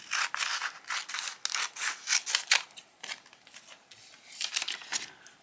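Scissors snip through clear plastic film for an American Girl doll craft, a run of quick crisp close cuts with some rustling of the film between them.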